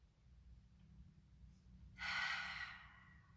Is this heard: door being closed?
no